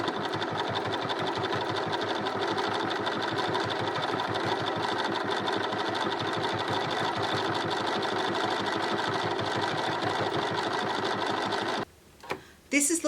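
A sewing machine runs steadily for about twelve seconds, stitching a dense satin stitch in bright variegated thread to enclose a raw fabric edge. The motor hums with a fast mechanical needle rhythm, close and even, then stops abruptly with a couple of faint handling knocks.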